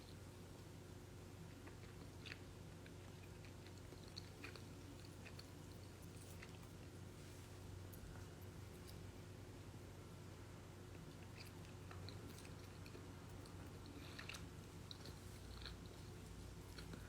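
Fruit is bitten and chewed close to the microphone. Soft, wet crunches and chewing sounds come at irregular intervals over a quiet, steady background hum, with no talking.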